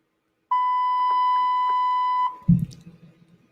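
A single sustained electronic beep, a pure steady tone held for nearly two seconds, then cut off and followed by a short low thud or bump.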